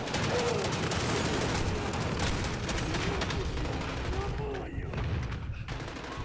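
Dense gunfire from the video game Call of Duty: Modern Warfare (2019) runs almost without a break, with rapid overlapping shots and bursts, loud and close, and a short lull near the end.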